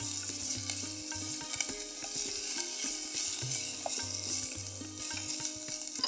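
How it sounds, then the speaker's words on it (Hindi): Vegetables stirred continuously in a pan while cooking for a sattvic dish, with a steady sizzle and repeated scraping and clinking strokes of the spoon throughout, close and fairly loud. "इसको कंटिन्यूसली स्टर करते रहना ताकि ये लगे ना।"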